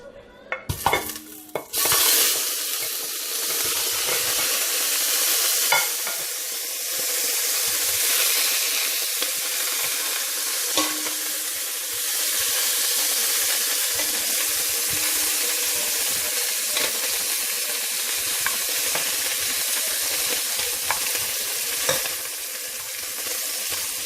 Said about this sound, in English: now I'm just going to add the meat in here.